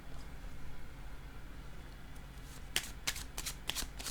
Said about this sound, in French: Je vais piger une carte